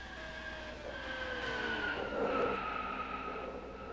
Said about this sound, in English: Big crash right in front of Max Anderson and the leaders